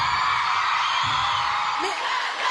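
A concert crowd at a show whoops and yells in a loud, continuous roar, with a few sharper shouts rising above the dense crowd noise.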